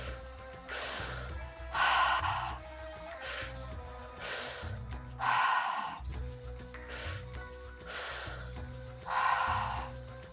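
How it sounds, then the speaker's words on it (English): Deep, slow breaths during a breathwork exercise, each long inhale and exhale heard up close in a steady rhythm, with soft background music underneath and no talking. "Just keep breathing deeper"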